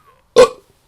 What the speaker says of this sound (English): he can burp on command